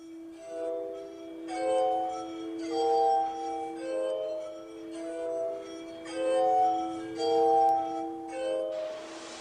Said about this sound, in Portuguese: Em 1761, Franklin divulgou a sua harmónica de vidro.